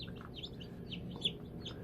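A newly hatched chicken chick peeping, small high chirps repeating faintly over a steady low background hum, with one slightly louder peep.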